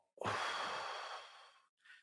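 Deliberate breath during a guided meditation exercise: one long audible exhale, close and soft, trailing off, followed by a brief quieter breath.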